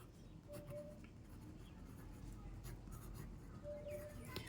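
A sentence being written by hand, with a soft, steady scratching of pen strokes close by in a quiet room, faint and continuous with small bursts of stroke noise.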